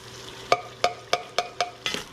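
Tomato sauce is stirred into sizzling mushrooms and onions in a pan, five or six evenly spaced scraping strokes over a soft, constant frying hiss, with no talking.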